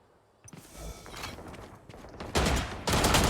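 Rapid gunfire bursts from the video game Valorant, sharp broadband cracks that grow louder and denser toward the end, with scattered smaller impacts and footstep-like clatter earlier.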